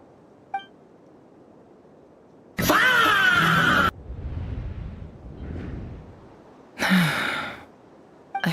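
A female character in the Genshin Impact video game gasps, with two sharp, breathy vocal bursts a few seconds apart over quiet game ambience.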